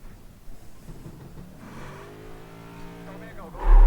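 An iRacing Cup car's engine climbs steadily in pitch as it revs up on the Homestead track, followed by a louder surge at the end.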